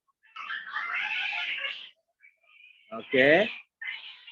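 A house cat gives two meows, one drawn out and one short and rising, close to the mic with brief gaps between them, and a voice speaks between the calls.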